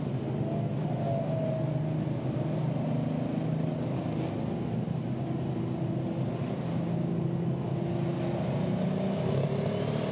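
A Pro Stock pulling tractor roars steadily at a night pulling event at 300 Raceway in Farley, Iowa, its loud, continuous engine drone holding for the whole stretch amid a broad wash of crowd and venue noise.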